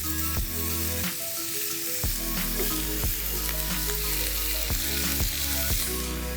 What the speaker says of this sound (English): Mince is going to go in, just break a little bit off.